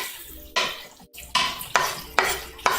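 Chopped garlic and onions tossed into a cooking pan, giving several sharp clattering scrapes and stirring knocks spaced about half a second apart, close and fairly loud with no talking.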